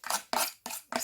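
Paste being stirred in a container, four separate scraping strokes of even length, each a bright, gritty swish with short pauses between them, close and moderately loud with no talking.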